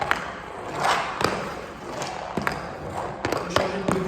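A field hockey ball is slid and tapped along an indoor floor with a stick, producing close rolling scrapes punctuated by sharp knocks and thuds at irregular intervals.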